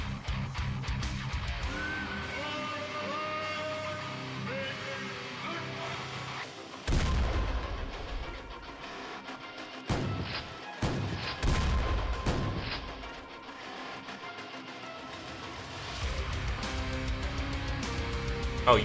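Bombing explosions in the video game XPiratez: a run of deep, heavy booms clustered in the middle stretch, rising loud over a steady musical game backdrop that continues before and after.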